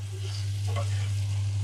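Liver curry with homemade garam masala and fresh coriander frying in a pan, a steady soft sizzle over a constant low hum, close and even throughout.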